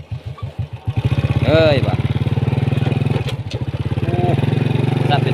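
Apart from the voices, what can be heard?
motorcycle riding up a mountain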